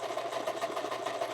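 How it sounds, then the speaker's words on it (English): A sewing machine skipping stitches because its timing is off runs continuously, a close, fast rhythmic whirring clatter with a quick regular pulse and no voices over it. "I need to fix the timing on my machine because apparently it's skipping stitches."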